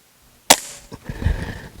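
An air gun fires a single sharp, close crack at a target, followed by faint clatter and handling noise.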